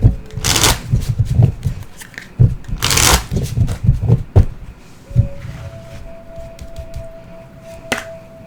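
Oracle cards from the Reclaim Your Power deck by Anthea Spark being shuffled by hand, close and crisp in repeated riffling bursts, with brief pauses and a faint steady tone near the end.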